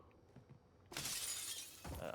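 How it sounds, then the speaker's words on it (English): Glass shatters in a Warzone match, a sudden loud crash with tinkling debris that trails off, then a second burst of breaking glass, following quiet background game sounds and faint voices. "We don't want to be breaking glass right now."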